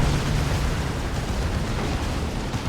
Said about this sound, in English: D-Cannon getting some good hits in there